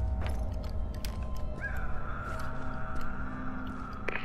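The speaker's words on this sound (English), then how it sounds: "Bird." A single crow-like caw in the video game Zombi, a drawn-out call rising mid-clip over a steady low ambient drone, moderately distant and not loud.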